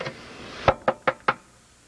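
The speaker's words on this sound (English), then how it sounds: "knock on Formica" Four sharp knocks on a Formica surface, the first soft and the rest in a quick, fairly even rhythm, close and crisp against a quiet room.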